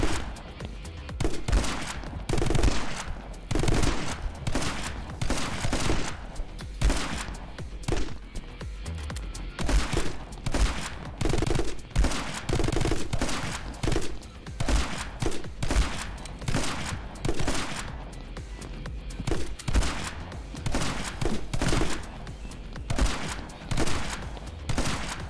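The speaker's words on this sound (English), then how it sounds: "Shotgun time." Shotgun in the action video game My Friend Pedro: rapid, heavy game gunfire, dozens of loud booming blasts in quick irregular bursts with barely a pause, continuing for the whole stretch.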